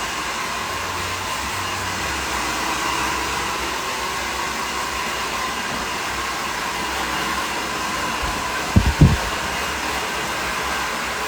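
A hair dryer blows steadily while rough drying a freshly cut layered bob, a constant close whooshing roar with a couple of brief knocks near the end.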